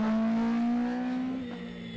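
On-board view of a Darien T90 rally car on a stage at Snetterton, its engine holding a loud, steady tone that then drops in pitch as the car eases off, heard from inside the cabin with no talking.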